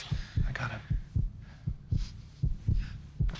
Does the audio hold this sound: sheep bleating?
no